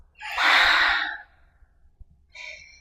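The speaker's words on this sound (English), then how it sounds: "take an open mouth exhale" An open-mouth exhale during a power yoga session, a single loud breathy whoosh lasting under a second, then quiet, followed by a short faint tonal sound near the end.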